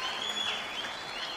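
Crowd applause and cheering at the Qatar Classic 2017 squash tournament right after a long, brutal rally, steady and dense throughout.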